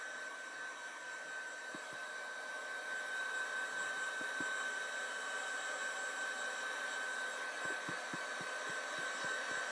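A hair dryer on its cold setting blows across an antique mirror frame, a steady close whirring hum with a high whine throughout, joined by occasional faint knocks and taps; no talking.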